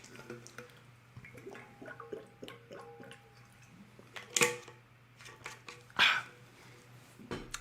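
Someone getting a drink of water nearby makes quiet clinks, small taps and soft handling noises, broken by two short, sharper splashing bursts.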